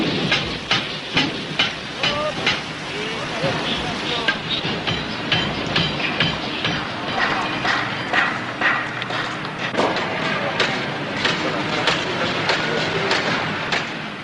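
A train runs along a Cambodian railway line linking Battambang in the northwest to the port of Kompong Som, with steady rhythmic clacking of wheels over rail joints throughout, fairly close and continuous.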